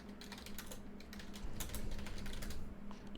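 Fast, steady typing on a computer keyboard, a dense run of close clicking keystrokes that grows a little louder midway, with no voices.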